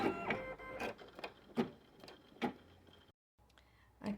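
An embroidery machine stitches a placement outline onto fabric held in a 13x18 hoop, giving a rhythmic run of sharp mechanical clacks and whirring, with one brief pause before stitching resumes.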